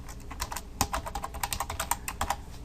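Quick, steady typing on a computer keyboard while JavaScript is entered, a close, busy patter of individual key clicks with no voices.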